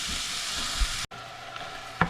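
Food cooking in a pan gives off a steady, low sizzle and hiss that runs throughout, briefly cut off once, with a faint clink or tap near the end.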